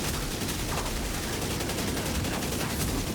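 Rapid video game gunfire shooting downed enemies on the ground, a dense continuous crackle of shots with no gaps, loud and close throughout.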